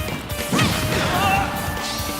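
A sharp smash hit from Min Min's quick up smash in a Super Smash Bros fighting match, landing as one crisp crack with a brief swishing tail over steady game noise.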